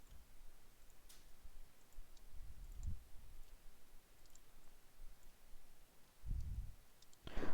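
Faint, sparse computer mouse clicks sound in a quiet room, a few isolated taps spaced several seconds apart with soft handling noise between them, no talk.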